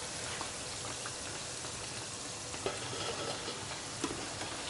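Festivals, fried dumplings, frying in hot oil, giving a steady dense sizzle with small crackles and pops, fairly quiet and close, with no talking.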